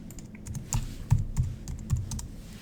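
Typing on a computer keyboard, a short run of irregular clicking keystrokes with a few heavier taps, close and fairly quiet.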